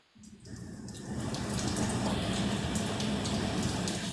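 A shower runs inside a house, a steady rushing hiss of water that starts after a brief quiet moment and holds evenly, fairly close, with no talking.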